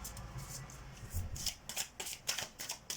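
Tarot cards are shuffled and handled in a steady run of crisp riffling slaps and soft sliding flicks, close and fairly quiet, with no voices.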